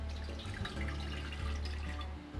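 Water running steadily into a big 12-quart stock pot, a continuous gushing pour with splashy texture lasting throughout, close and fairly loud with no talking.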